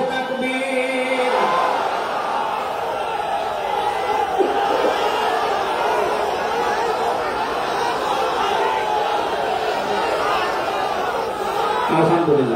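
A large outdoor crowd at a religious waz gathering in Jessore shouts back a takbir call in unison: a dense, loud roar of many voices that holds for several seconds, with a rise and then a swell again near the end.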